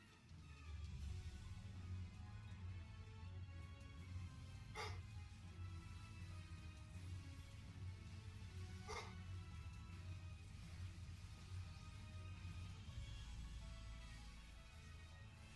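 A pet dog barks and whimpers, with two sharp, separate barks standing out over a steady low background hum.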